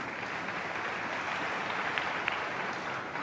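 Steady applause from a world-record snooker crowd of 9,000 fills the venue, a dense even wash of clapping that holds for a few seconds without a break.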